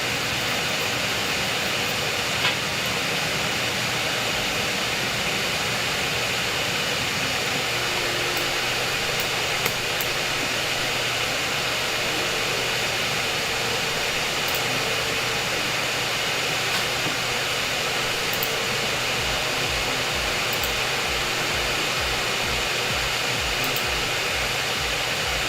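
Airbus A320neo jet engine in Microsoft Flight Simulator 2024, a steady broadband roar and hiss that holds constant throughout with no talk over it.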